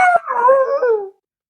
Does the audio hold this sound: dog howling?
yes